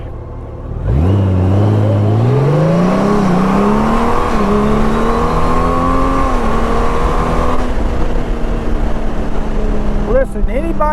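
A Honda Goldwing touring motorcycle accelerates hard, its engine climbing steadily through a long rising pull, loud and close, then settling into a steady drone before easing off.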